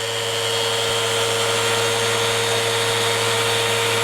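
A woodworking jointer with a cast iron bed runs steadily after start-up, giving a loud, continuous whirring motor drone with a fixed tonal hum and no pauses.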